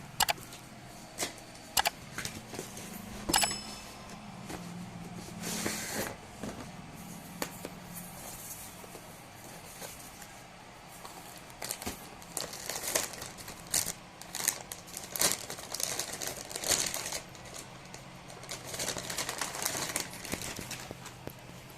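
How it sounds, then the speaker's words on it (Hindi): Unboxing a brand-new MSI RX 5500 XT graphics card, with close sharp clicks, snaps, crinkling packaging and rustling handling noises scattered irregularly throughout. "बाकी मैं आपको कार्ड ये खोल के दिखा देता हूँ।"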